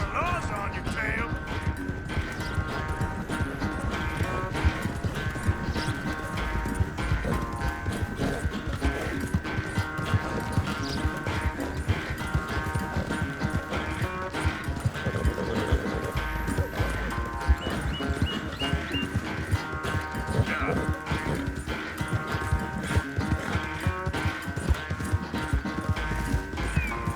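Hooves clip-clop in a steady galloping rhythm while riding on horseback in Red Dead Redemption 2, with occasional whinnies, a backing music score, and a character's voice talking over the ride throughout.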